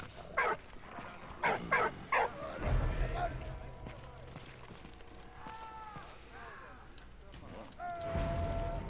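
Several short barks from a dog in a war video game, bursting in quick succession early on, followed by low rumbling game sounds and a few tonal effects; a person talks over parts of it.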